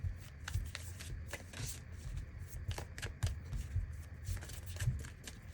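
A deck of tarot cards being shuffled up close, with a quick series of soft papery riffles and slaps in uneven bursts and no one speaking.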